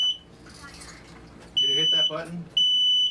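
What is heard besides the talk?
smoke alarm going off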